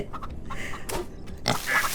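Pigs in the farming video game Farm Together oink and snort in a few short grunting bursts, close and fairly loud, with brief gaps between them.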